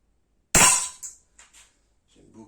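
A single sharp crack from a Langley Pro Sniper 4.5 mm air pistol fired at about 8 metres, loud and close, followed by a few faint metallic ticks of the pellet striking and settling.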